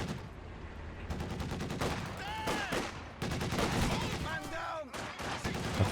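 A DShK heavy machine gun in a video game fires rapid, loud bursts, mixed with other gunfire and battle effects in a busy, dense barrage.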